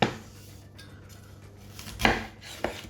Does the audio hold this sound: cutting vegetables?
yes